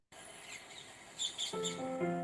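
Parakeets call in brief, bright chirps against a quiet backdrop, with a denser burst of layered bird calls building toward the end.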